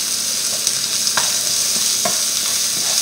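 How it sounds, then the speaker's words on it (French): Garlic, onion and shallot sizzle in a pan over meat juices, a loud continuous frying hiss with spatula scrapes and stirring taps recurring every second or so. "je vais faire revenir mon ail, mon oignon et mon échalote"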